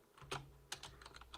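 Keys clatter on a computer keyboard in a short burst of irregular typing, a few sharp clicks spaced unevenly, close and clear with no voices.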